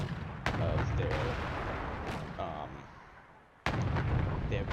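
Cannon fire from M1 tanks engaging a massed block of T-72s in a tank video game: several loud, sharp booms with long rumbling tails, spaced a second or two apart, overlapping a steady low battle din.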